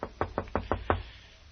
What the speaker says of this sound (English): wait a minute, I'll knock.